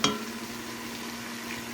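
Red onions hit a hot pan of rendered beef fat for chili, a brief scrape at the start, then a steady close hiss of frying, quiet and even, with no talk.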